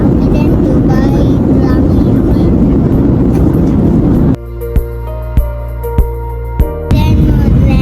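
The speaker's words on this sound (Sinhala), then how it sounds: "දැන් ලෑන්ඩ් කරන්න යන්නේ ඩෙසර්ට් එකේ" Airliner cabin on approach to landing over the Dubai desert: steady loud broadband engine and air roar, then a sudden cut to a quieter hum with a few sharp knocks before the roar returns.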